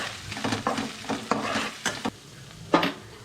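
Spice paste sautés in hot oil in a pan for a home Bengali dish, sizzling steadily while a spoon stirs and scrapes in short repeated strokes close by, with no talking.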